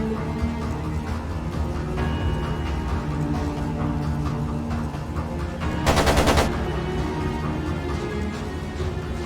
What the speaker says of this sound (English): It sounded like a machine gun.